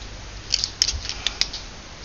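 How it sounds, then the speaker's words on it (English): Scissors snip paper for a handmade Renaissance journal, a few quick, crisp cuts close up in a quiet room. "Let's just cut that off just a tad really quickly."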